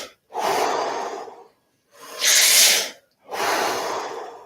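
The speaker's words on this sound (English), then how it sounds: "Big full breaths." Big, full breaths drawn during a guided shamanic breathwork session, three long forceful airy breaths close to the mic with short silent pauses between them, no talking.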